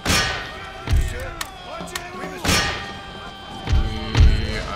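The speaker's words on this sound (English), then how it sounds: "there's a lot of artillery fire going on" Booming artillery fire rolls across a battle in the video game Empire: Total War, several heavy thuds with long decaying tails spaced a second or two apart over constant battlefield din and clanking.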